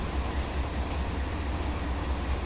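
Heavy steel freight train coasting downgrade through the Tehachapi Mountains, a continuous low rumbling roll of wheels and cars with faint rhythmic pulsing, steady and moderately distant, no voices.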